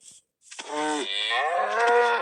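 Cows mooing in the Minecraft video game, a long drawn-out low moo after a brief silence, loud and close, with no talk over it.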